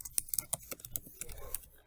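Keys on a computer keyboard clack in quick, irregular bursts, close and clear, as a quiz title is typed in Microsoft Teams.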